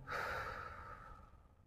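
A single long exhale during a daily nerve-relief exercise routine, a soft, breathy sigh that swells quickly and fades over about a second, close and alone.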